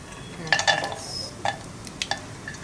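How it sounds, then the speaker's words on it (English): Half a teaspoon of mustard seeds spluttering in hot ghee, with scattered sharp pops and crackles at uneven intervals over a soft frying hiss, close and moderately loud. "Next goes in the mustard seeds, that is half a teaspoon of mustard seeds. Let them splutter."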